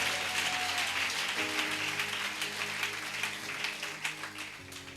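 A church congregation applauds and acclaims Jesus: steady, dense clapping and crowd noise for the whole stretch, over sustained musical tones from the worship band or organ.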